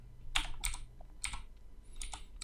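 A few quick computer keyboard keystrokes in small clusters, close and moderately loud, with short pauses between them and no talking.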